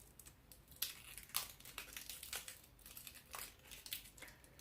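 A plastic package is torn open and its wrapper crinkles in a series of sharp, close, irregular bursts, each separated by brief quieter rustling, with no voices.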